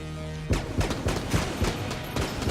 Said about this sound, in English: Let's go for the Tommy submachine gun